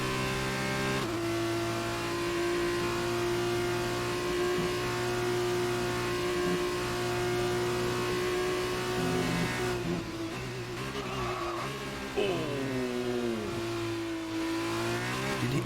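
Formula 2 race car in a racing video game, engine droning steadily at high revs, then dropping and rising in pitch as it slides into a drift, loud and continuous with no talk.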